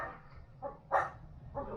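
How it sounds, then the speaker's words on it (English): Small dog barking: three short, sharp yaps at moderate distance over a low background hum, the middle one loudest, no talk. "you're not tough, little dog. Come on, you behave. Go inside. Go. Be quiet."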